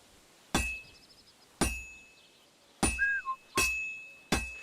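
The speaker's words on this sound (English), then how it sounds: "Now take the hammer and try hitting it a few times." In Kingdom Come Deliverance II, a hammer strikes a sword on an anvil with five bright, ringing clinks spaced unevenly. Each hit decays with a metallic shimmer, and a short whistling tone sounds between two strikes.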